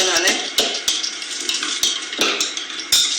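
Bhalla batter being stirred briskly in one direction in a bowl, a steady run of scraping, slapping strokes with sharp regular clicks of the spoon against the side, close and fairly loud.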